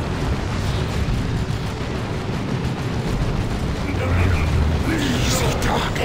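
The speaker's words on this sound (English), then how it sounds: "Orks firing on our position." Orks fire on a position in Dawn of War 2: Retribution, a constant thick din of explosions and gunfire with a heavier boom and sharp bright crackles toward the end, a voice talking underneath.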